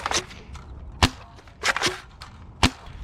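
An X-Shot Pro Series Fury-X foam dart blaster fires four sharp, loud snapping shots at uneven intervals, each a crisp close crack with a brief mechanical clack, separated by quieter handling noise.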